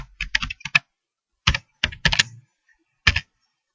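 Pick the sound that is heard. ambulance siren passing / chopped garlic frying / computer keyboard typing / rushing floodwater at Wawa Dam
computer keyboard typing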